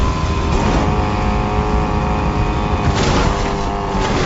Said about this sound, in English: Let's just drive off this cliff.